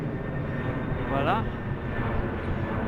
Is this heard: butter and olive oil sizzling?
no